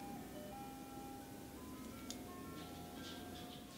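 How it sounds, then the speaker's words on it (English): An ice cream truck plays its tinkling jingle out in the neighborhood, a faint distant melody of sustained tones drifting over steady background noise, with no talk. "Do you guys have ice cream trucks in your neighborhood?"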